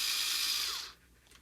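A power screwdriver tightening a screw on an iMac gives a loud, close whir that falls in pitch and cuts off after about a second, leaving near silence.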